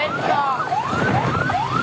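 An ambulance-type siren wails in steady rising sweeps, loud and close against a constant roar of street traffic on a road in Makassar, South Sulawesi.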